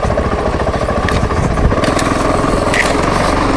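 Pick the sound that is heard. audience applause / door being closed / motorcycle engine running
motorcycle engine running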